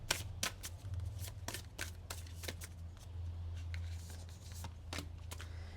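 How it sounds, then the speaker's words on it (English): Tarot cards are handled and shuffled at close range, giving a run of sharp, quick riffling snaps and soft slides in uneven bursts, with no talking. "And then we will be grabbing out some tarot."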